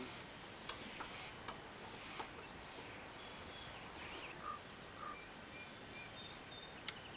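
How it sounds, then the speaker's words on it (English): Birds call in short, faint chirps scattered over steady outdoor background noise near a 1992 Ford 3930 4x4 tractor, with one sharp tick near the end. "birds going at it"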